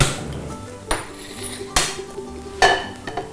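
A metal frying pan knocks and clanks on a stovetop in a home kitchen, giving three or four sharp, ringing metallic hits spaced about a second apart, close by, with faint background noise.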